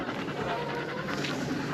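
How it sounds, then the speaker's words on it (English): Sarge the dog pants quickly and steadily close by, making a breathy, rhythmic sound with small vocal noises mixed in. "We've got a very vocal dog."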